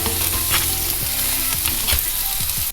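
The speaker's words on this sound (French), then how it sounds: "ensuite on va venir faire rôtir nos tranches d'ananas" Pineapple slices fry in hot sunflower oil in a pan over medium heat, a loud, dense sizzle broken by a few scraping knocks of a utensil moving the fruit, with no voices.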